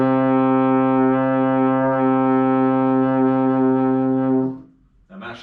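Baritone horn holding a single sustained C note for about four and a half seconds, steady and full, then cutting off cleanly into near silence before a faint noise at the end.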